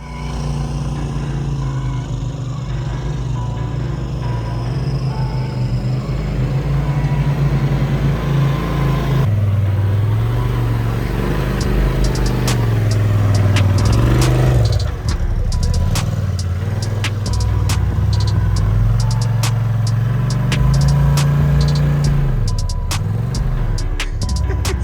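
A 2021 Polaris RZR Turbo S Velocity side-by-side engine drones steadily at Sand Hollow, rising and falling as it drives, with loud revs and some clatter near the end.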